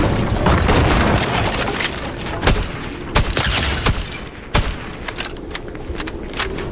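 Sharp gunshots from a Fortnite competitive match crack out in scattered bursts over a dense, busy game mix, several loud reports spaced irregularly across the stretch.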